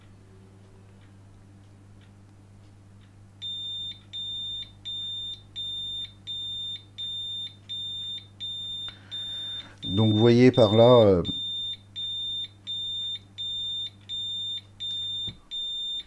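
A K2 EMF meter beeps in a steady, evenly spaced rhythm, cut through once by a loud burst of walkie-talkie static, while someone speaks briefly nearby.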